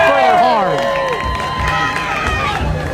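A crowd at a lucha libre-style pro wrestling show oohs and cheers loudly as a wrestler drops, with swelling, sliding group voices and scattered shouts and thuds from the arena.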